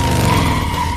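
A film car skids out of control and slams into another car, heard as a loud, sustained tire screech with engine roar, close and dominant for the whole moment.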